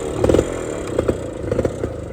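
A red Honda Cub 90 motorcycle being kicked over and started, its small single-cylinder engine giving a few uneven close chugs and clattering pops before settling into a loud rough low idle.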